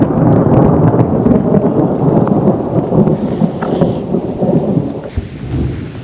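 Deep rolling thunder rumbles through a storm beside a canal, loud and continuous, with steady rain hissing underneath and no one talking.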